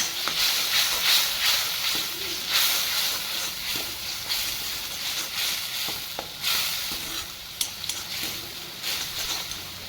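Masala gravy with turmeric, black chilli powder and red chilli powder frying in a pan, a steady close hiss and sizzle with faint scattered crackles, no voices.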